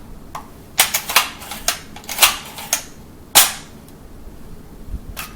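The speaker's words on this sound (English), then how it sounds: "after releasing the rounds that are in the magazine, you will need to retract the bolt to eject the last round" The bolt of an unissued Yugoslavian M59 SKS rifle is worked by hand, a series of sharp metallic clacks and snaps, loud and close, with a heavier clunk as it locks back.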